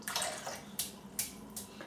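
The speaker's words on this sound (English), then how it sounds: "Let's just dip that brush and shake it out a few times" A shaving brush dipped into a basin of warm water and shaken out, giving a few brief splashy water bursts close by against quiet room tone.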